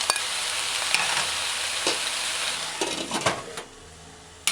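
Chopped bok choy sizzles in a hot pan on a stove for a vegan stew, a loud, dense hiss with a few clinks and stirring scrapes, fading slightly toward the end.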